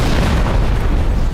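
Golabath's Terra Magma attack in the monster-battling game Manamon2 sets off a loud, close, rumbling blast that fills the whole short moment with a dense, booming roar.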